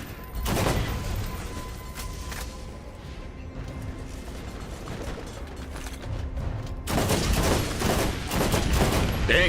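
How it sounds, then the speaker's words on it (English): Borderlands video game combat with heavy rapid gunfire and a blast from a thrown grenade, loud and continuous, with a fresh surge of dense shots near the end. "Dang, that was a nice grenade throw."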